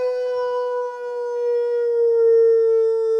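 A person imitates a wolf with one long, steady, tonal howl, loud and close, held without a break and with no other sound.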